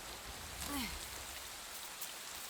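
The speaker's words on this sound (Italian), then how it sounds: "Che bella la pioggia e tutto il sistema atmosferico è veramente next gen." Steady rain hisses across a surface in Assassin's Creed Shadows, a continuous soft wash with a faint tonal swoop passing briefly near the middle.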